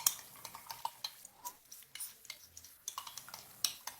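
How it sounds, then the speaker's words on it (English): A spoon stirs a tablespoon of cornstarch into fresh orange juice for a salmon sauce, giving soft, irregular clinks and taps against the bowl, repeated quietly for several seconds with no talking. "I'm going to add in 1 tablespoon of cornstarch first and just give that a mix in the orange juice."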